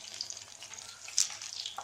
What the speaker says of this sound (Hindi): आपको इसका सिजल सुनाई दे रहा होगा।